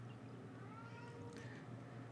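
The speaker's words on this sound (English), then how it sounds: "I'm just going to have to let the cat into the room, apparently, because he's being very noisy" A cat meows faintly from beyond a closed room, a short muffled call under a low steady hum.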